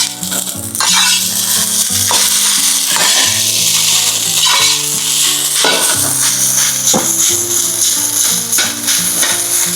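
Garlic fried rice frying in a pan, a loud continuous sizzle with steady scraping and stirring of the rice against the metal, close and unbroken throughout.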